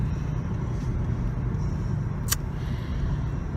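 Steady low rumble of a car cabin while driving, with road and engine noise holding even throughout and one brief sharp click partway through.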